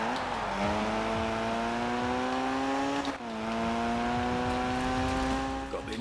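Race car engine in a racing video game, K74 Rivals, revving hard with a steady climbing whine, briefly dropping at a gear change around three seconds before pulling up again, loud and continuous.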